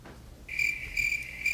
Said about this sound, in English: Cue the crickets.